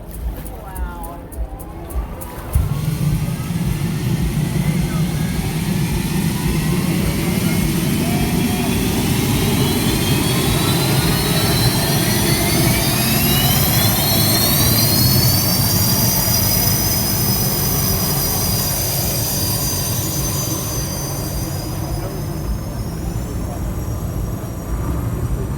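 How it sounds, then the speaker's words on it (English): The Oberto hydroplane race boat's engine starts up and roars loud and steady, with a high whine climbing in pitch over a dense, rumbling roar that runs unbroken for over twenty seconds. "Well, you gotta love that sound if you're a hydroplane race fan."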